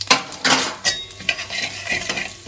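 Whole cumin, fennel, nigella and asafoetida go into hot oil for cauliflower dhokar dalna, with a faint sizzle under repeated metal spoon scrapes and clinks against the pan, close and with no talking.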